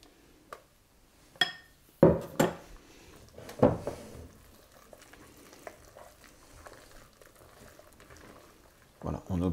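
Chocolate mousse being mixed in a bowl, with a handful of sharp utensil knocks and scrapes against the bowl early on, then a quieter stretch of soft stirring and a final clatter at the end.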